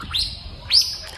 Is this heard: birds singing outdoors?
yes